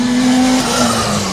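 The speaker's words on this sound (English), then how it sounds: "there is a couple of cars here going round" Cars run laps around a race track. A loud, close, steady engine drone holds a sustained tone throughout, with no talking.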